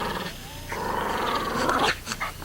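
A short-legged, affectionate pet dog growls low and steadily at close range, with a bit of panting breath, then a few rougher bursts near the end.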